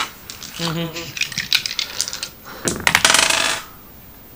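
Dice tumbling and clattering across a tabletop during a Dragon Ball Z tabletop RPG session, two bursts of rattling clicks, with a voice briefly heard in between.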